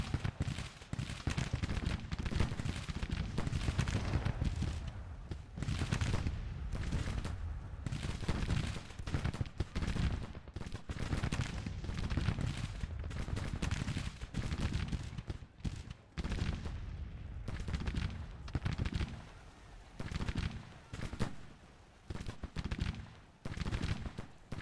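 Sustained rifle gunfire from Sharps rifles in a Civil War battle in the strategy game Grand Tactician: The Civil War, with dense overlapping volleys and scattered shots that crackle steadily and then thin into irregular bursts.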